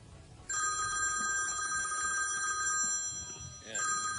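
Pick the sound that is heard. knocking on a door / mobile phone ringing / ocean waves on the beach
mobile phone ringing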